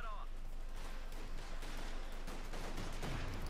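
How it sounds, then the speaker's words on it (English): Rifle fire from Grenadiers in Company of Heroes 2, a dense crackle of shots and distant battle noise rolling on throughout, moderately loud. "Fighting with rifle with the Grenadiers"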